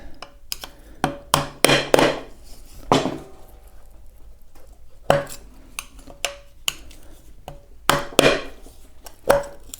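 Hard, irregular pounding as screwdrivers are hammered to pry the top piece off a Sherman tank model, sharp metallic blows arriving in clustered bursts with short pauses, close and loud with no talking.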